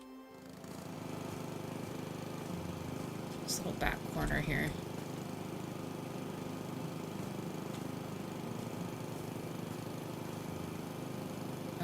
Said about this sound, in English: I saw the lawnmower with me.